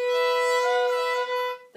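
A violin sounds a single bowed note with a buzzy, doubled tone from a finger brushing the E string, sustained for under two seconds before cutting off.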